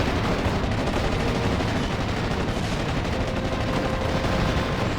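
Sustained artillery and mortar fire from a World War II Normandy battle in the strategy game Steel Division: Normandy 44, a dense, continuous rumble of overlapping blasts and shots at steady loudness throughout.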